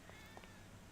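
A cat in the video game GTA V gives a couple of short, soft meows over a steady low game background hum, brief and fairly faint.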